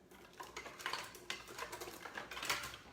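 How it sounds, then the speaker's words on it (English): Apples are pushed through a hand slicer into a pan, making faint, quick clicks and clatters of metal and fruit in a quiet kitchen with no voices. "I'm just going to take my apples and just slice them into my pan"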